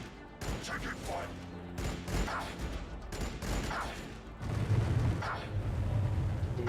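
Gunfire and explosions from the strategy video game Battlesector with Necron forces, a dense ongoing barrage of shots and booms with a heavier low rumble building near the end, mixed game sound throughout.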